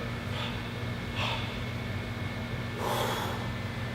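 Forceful breaths pushed out during an ab exercise, three sharp exhales spaced across a few seconds over a steady low hum, the last one the loudest.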